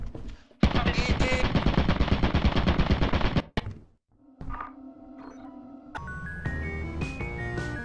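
A turret in a video game fires a long, rapid, loud automatic burst, then falls silent before electronic tones and game sound effects follow.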